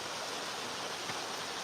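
A river in a botanical garden in Tbilisi rushes in a soft, steady wash of water noise, fairly faint and continuous, with no voices.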